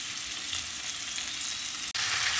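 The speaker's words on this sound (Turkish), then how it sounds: "Şimdi üzerlerine domateslerimi ilave ediyorum." Tomatoes fry in garlic oil in a pan, giving a loud, steady crackling sizzle that fills the whole clip, broken only by a split-second cut before it resumes.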